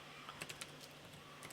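Quick, light keystrokes on a computer keyboard while filling in a word-processor exam document, a brief irregular burst of soft clicks heard close and fairly faint, with no voices.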